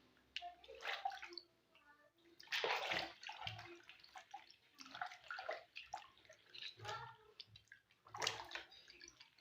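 Feet being scrubbed in a plastic tub of water give off sloshing splashes and drips in irregular bursts, fairly close. Quiet talk is heard now and then between the splashes.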